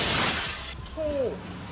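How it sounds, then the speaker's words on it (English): Glass shattering and crashing down near a campus building during a storm, a bright breaking burst over a roar of heavy rain and wind, followed by a short squealing scrape. "the glass comes crashing down just feet from his feet"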